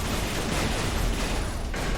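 Flak cannon fire in the space shooter Everspace 2, a dense continuous barrage of rapid bursts filling the whole stretch, loud and close with no talk.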